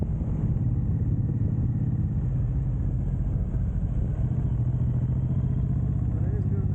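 A Suzuki M109R cruiser motorcycle rumbles along steadily on a ride, with a constant low engine drone and wind noise that stay at one level throughout, while someone talks over it.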